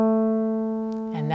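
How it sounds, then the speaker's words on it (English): A steady mid-range musical note A holds for about a second before a voice begins speaking over its end. "Sometimes you can have A in the middle."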